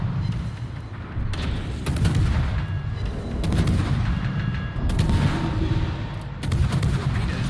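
Naval guns firing in the World of Warships game, a Smaland tier 10 Pan-European destroyer in battle: repeated heavy booming salvos, roughly five or six close loud blasts at irregular intervals over a continuous low rumble.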